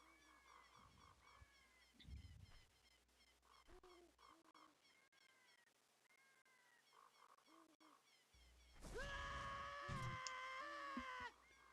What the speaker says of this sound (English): It was a little excessive on the scream